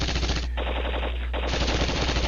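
Sustained, loud machine-gun and gunfire bursts from a multiplayer war video game battle with mortar fire, a continuous dense rattle with a brief dip in the middle, no voices.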